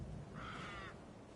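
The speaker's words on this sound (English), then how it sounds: "Hello, Mr. Crow." A single crow caws once, faint and somewhat distant, over a low ambient hum in the horror game Alan Wake 2.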